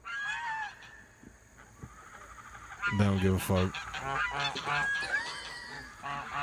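Pet geese honking around their owner, who lies on the ground faking a collapse; loud, harsh honks come in a cluster midway, with people talking over and between them.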